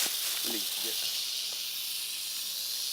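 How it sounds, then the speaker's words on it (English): Rattlesnake's dry, continuous rattling buzz, steady and close throughout, with brief muffled human voice sounds early on. "Oh shit, I just heard that snake."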